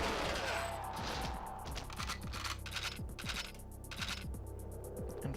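Rapid gunfire from the first-person shooter GoldenEye 007, a dense run of sharp repeated shots over a steady game background, close and loud throughout with no talking.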